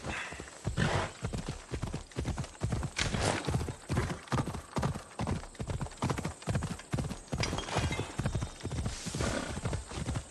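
A horse gallops in Assassin's Creed Odyssey, its hooves pounding a steady, rapid clip-clop rhythm throughout, loud and close, with a brief whinny partway through.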